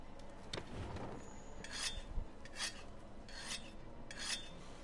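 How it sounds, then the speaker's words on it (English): A whetstone rasps along a hammer blade in Monster Hunter World, a series of gritty scraping strokes repeating at a steady rhythm, faint and dry with light metallic clinks, no voices. "We also need to sharpen our hammer."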